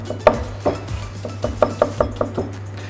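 Knife chopping leaves and a small piece of onion on a board for a healthy omelette, a steady series of about ten sharp, close taps, some louder, over a low steady hum.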